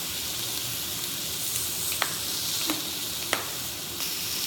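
Steak sizzles and fries steadily in a hot pan, a dense, constant hiss broken by a few sharp pops and crackles, close and with no talking.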